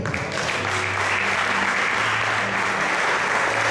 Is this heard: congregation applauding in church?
yes